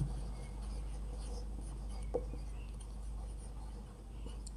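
Quiet scratching of writing on a board during a classroom lesson on electrostatics and capacitors, sitting under a steady low hum, with one brief sharper tap near the middle.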